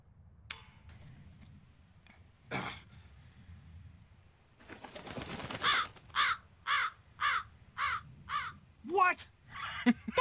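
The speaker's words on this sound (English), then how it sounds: "That crow just flew off with the coin!" Crow in the video game Tales of Berseria giving a series of about eight sharp rhythmic caws, loud and close, after some quieter clinks and sounds at the start.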